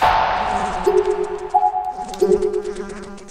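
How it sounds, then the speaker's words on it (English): A fly buzzes close around the ears in the horror video game Corpse Party, a loud wavering drone that swells and dips with scattered tonal pings behind it. "that buzzing noise I'm hearing around my ears is pretty good"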